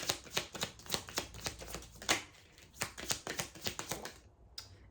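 Tarot cards are shuffled close up, a run of quick crisp riffling flicks and snaps with a soft final card pulled at the end, faint and without talk.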